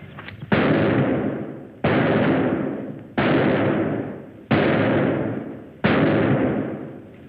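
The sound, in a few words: gunshots at target practice in 1946 film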